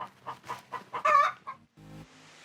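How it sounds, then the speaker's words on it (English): A chicken on a farm clucking in a quick series of short, close calls, with one louder squawk in the middle and a brief low sound near the end. "What do you think that chicken's talking about?"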